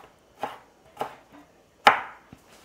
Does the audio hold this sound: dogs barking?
no